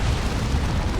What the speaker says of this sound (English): Plasma Cannon though is stopping them.